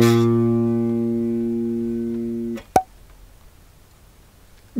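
One G note played on a bass guitar's G string sounds by itself, a steady low tone fading gently for under three seconds, then cut off with a muting click and near silence afterward.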